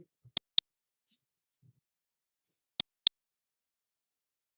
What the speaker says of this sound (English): my button is now clicking